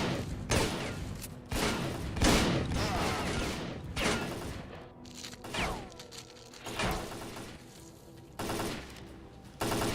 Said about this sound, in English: Who are you guys shooting at?